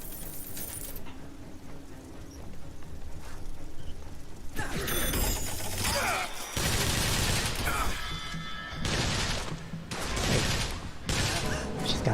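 Gunfire in the Bioshock Infinite: Burial at Sea game, a run of loud, sharp shots in close bursts from around the five-second mark, set over a rumbling in-game background and laid under a talking voice.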